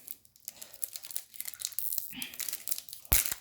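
A Yu-Gi-Oh booster pack wrapper is worked at with repeated crinkling foil rustles, followed by a sharp, loud tearing rip near the end, close and without talk.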